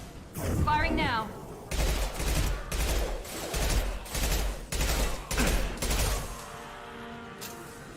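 Gunfire in the sci-fi shooter Mass Effect 2, loud bursts of rapid automatic shots in about six separate volleys, each lasting under a second, with brief gaps between them and a fading tail at the end.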